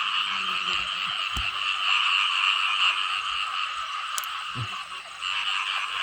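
Frogs croak continuously in a rain-flooded rice field at night, a dense steady chorus of many calls with an occasional nearby thump or splash.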